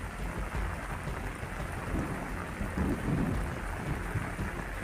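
Heavy rain pours down steadily in Patan, Gujarat, over waterlogged streets, making a dense, continuous roar with low rumbling swells and no voices.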